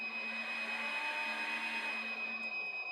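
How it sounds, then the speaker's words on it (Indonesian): An electric blower switched on and running from an inverter makes a steady, loud mechanical whir with a constant motor drone and a high whine. No voices are heard. "Di sini kita nyalakan blower"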